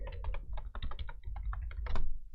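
Quick runs of key presses on a computer keyboard as a password is entered in a Linux terminal, close and crisp with brief pauses between bursts and nobody speaking.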